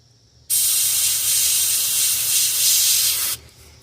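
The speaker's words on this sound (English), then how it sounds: "I'm just going to dry this just with my airbrush real quick" An airbrush blasts a steady, loud hiss of air for about three seconds to dry paint on a largemouth bass fishing lure, starting and stopping abruptly against a quiet room.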